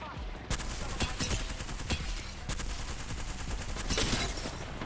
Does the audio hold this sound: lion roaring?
no